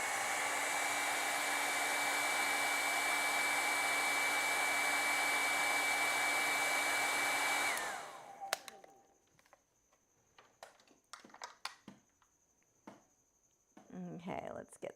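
A hair dryer blows loud and steady for about eight seconds as it dries acrylic paint on a dandelion canvas, then cuts off, leaving faint brush scrapes and small tapping sounds.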